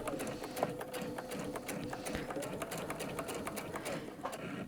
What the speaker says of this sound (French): j'ai laissé la machine couler jusqu'à ce qu'elle touche la bordure